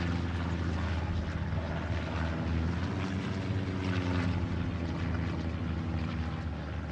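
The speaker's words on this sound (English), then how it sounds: "Recon plane coming in that diagonal again." A recon plane drones overhead in a World War II multiplayer strategy game, its propeller engine producing a steady, dense, loud rumble that holds constant throughout without voices.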